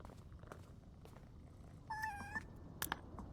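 A cat purrs and gives a short tonal call inside the video game PowerWash Simulator 2. The sound is soft and brief, rising near the middle over low game ambience, followed by a couple of faint clicks.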